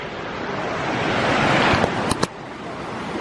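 River water rushes around rocks midstream in the Smoky Mountains of North Carolina, a loud, broad, continuous roar with wind buffeting the microphone and a couple of brief sharp knocks near the end.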